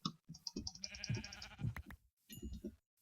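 Sheep in the video game Minecraft bleating several times in quick succession, close and clear, with short pauses between the calls.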